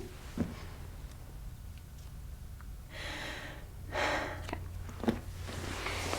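A patient takes a deep breath for a lung exam: a quiet room, then two slow, breathy inhale-exhale swells close to the listener, with a few soft clicks and bumps between them.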